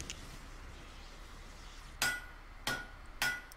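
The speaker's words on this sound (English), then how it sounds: "He's actually physically hammering the souls together?" Three sharp metallic hammer strikes ring out at a forge in the Mask of the Betrayer video game, where souls are hammered together, each clanging blow spaced about half a second apart over a quiet ambient background.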